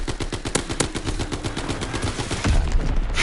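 Sustained automatic gunfire in the World War II shooter Call of Duty WWII as a magazine is emptied, a dense, loud stream of rapid shots with no break, ending in a heavier burst.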